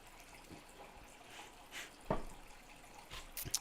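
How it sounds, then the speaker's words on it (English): Someone takes a small sip of water, faint liquid and mouth sounds with a soft gulp near the middle, quiet and close in an otherwise still room. "I'm going to have a tiny sip of water"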